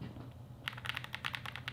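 Quick taps on a wooden keyboard with wooden keycaps: after a faint start, a short burst of about a dozen crisp, close keystrokes in an uneven rhythm.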